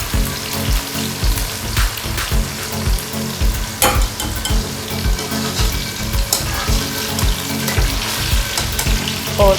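Okra (bhindi) frying in a pan, a steady dense sizzle with crackling and occasional stirring scrapes, loud and continuous throughout with no voices.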